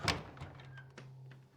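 A door creaks and thuds open in The Council, a brief close knock followed by a low sustained hum and a faint squeak, with no voices.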